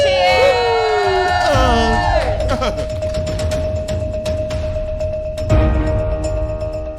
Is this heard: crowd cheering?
yes